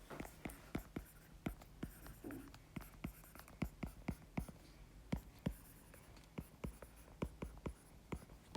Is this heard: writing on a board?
yes